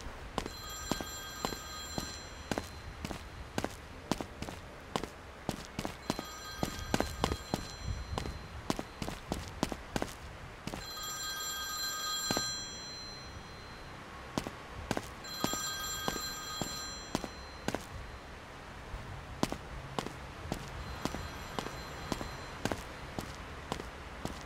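An old-style telephone bell rings in repeated bursts inside the true-crime first-person video game This is the Zodiac, mixed with steady footsteps and thumps that fill the gaps between rings.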